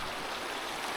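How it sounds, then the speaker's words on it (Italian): Small mountain stream flowing past a high-altitude bivouac on a wide meltwater plateau, a steady close rushing wash with no voices. "proprio di fronte al bivacco scorre questo torrentello"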